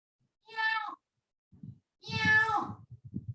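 A person imitates a cat with two drawn-out, nasal meows, the second longer and louder, followed by soft rustling and low murmurs.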